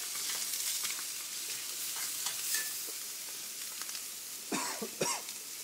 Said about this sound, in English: I'm going to take the egg and just kind of break it up on top and scramble it a little bit.